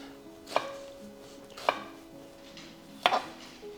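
A kitchen knife rough-chops a yellow onion on a cutting board with three sharp, separate cuts about a second apart, each a crisp, close thunk against the board, and nobody speaks.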